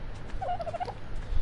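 A dodo bird in the survival game ARK gives a short, warbling, gobble-like call at moderate volume over a low rumbling ambient background.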